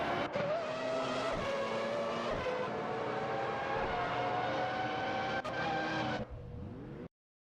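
Race car in a video game roaring past the finish line, its engine held at a loud, steady high-revving whine with tire squeal, ending in a downward pitch sweep as it passes and then abrupt silence.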